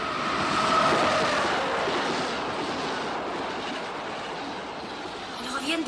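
Passing train heard as a broad, steady rumble and rush at moderate distance, swelling slightly early on and then holding for several seconds, with a faint tone and a little speech-like sound over it.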